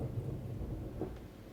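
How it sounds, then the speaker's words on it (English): Distant thunder rolls as a low, steady rumble during a storm outside, faint and continuous for the whole moment, with no voices over it. "Got some thunder going on."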